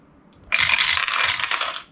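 Dice clattering in a rush for about a second and a half, loud and close, rolled for movement and shooting in the Stars of Akarios solo board game.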